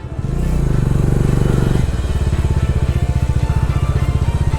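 Motorcycle riding on a rough, potholed Ladakh highway, its engine thrumming loud and close with a heavy rumbling jolt early on, then a steady pulsing engine beat continuing to the end.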